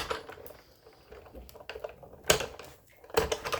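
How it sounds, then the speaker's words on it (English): Scissors snip through clear acetate sheet while trimming a shaker bow made on foam board, giving a few crisp, close cuts with light handling rustle in between at a low level. "So you still have to trim it with your scissors."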